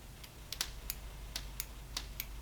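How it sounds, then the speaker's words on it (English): Small scissors snipping through a wig weft just above the sewn track, a series of sharp, crisp clicks spaced irregularly over a quiet background hum, close by with no talking. "I'm going to cut right above it. Come here. Come on, little scissor."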